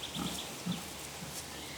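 Pigs in a Croatian woodland pasture give a few low, short grunts, soft and somewhat distant over a quiet outdoor background.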